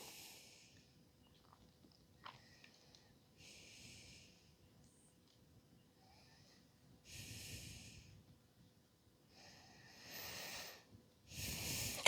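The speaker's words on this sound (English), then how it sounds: "Conscious breathing." Slow, conscious yoga breathing during a seated forward fold, heard as soft drawn-out breaths with several louder, rushing exhales close to the mic in a quiet room.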